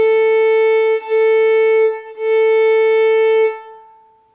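Open A string on a fiddle, bowed three times in long sustained strokes with brief breaks between them, giving a loud, steady, close tone that rings on briefly after the last stroke, with no speech.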